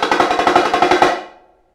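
A Spock tenor drum from a marching percussion set rattles through a fast, even roll of a dozen or so close, loud strokes lasting about a second before ringing out into silence.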